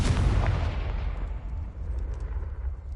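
A Confringo spell blast in the Hogwarts Legacy video game, one heavy booming explosion that hits at once and rumbles away over a few seconds, loud and alone.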